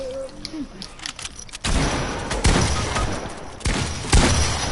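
Gunfire in Fortnite, several sharp loud shots cracking at irregular intervals after a quieter opening, close and punchy, with faint game sounds between.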